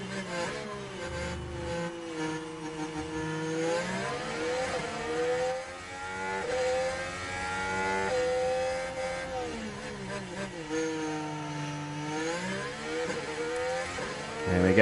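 Formula 1 race cars in F1 Manager 23 launching and accelerating, a dense chorus of high revving engines rising and falling in pitch through gear changes, loud and continuous.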